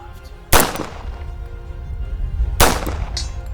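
Two loud, sharp pistol shots from a 1911 fired at a 106-yard target, spaced about two seconds apart, each with a ringing outdoor echo and a faint metallic ping of a hit after the second.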